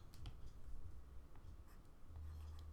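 Faint pen-on-surface scratching as numbers are written while graphing inequalities, a few short strokes and taps at close range, quiet and without speech.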